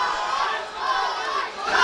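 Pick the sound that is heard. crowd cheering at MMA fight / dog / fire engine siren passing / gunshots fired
crowd cheering at MMA fight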